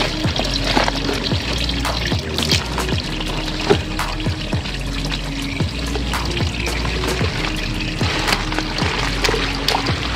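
Tannin-tinted water drains out of squeezed cocopeat in a steady, splashy pour lasting several seconds, with small irregular drips and gurgles throughout.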